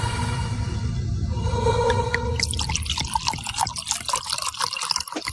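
Wine poured from a bottle in a science-fiction audio drama, first a soft steady liquid stream, then a brighter run of splashing drips and trickles into the glass, close and alone.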